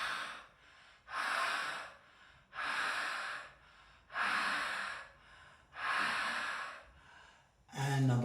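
Deep, forceful breaths drawn through a wide-open mouth during a bioenergetics belly-thorax exercise, five loud, rhythmic rasping inhalations and exhalations spaced about a second and a half apart, close and alone.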